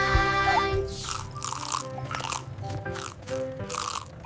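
Crisp apple crunches stand out as a sung effect in a children's fruit bus song, several rhythmic bites under a musical backing.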